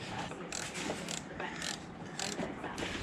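A linkage lock nut being undone with a ratchet, giving a rapid series of close clicking pawl bursts in several short runs, quiet and with no talking.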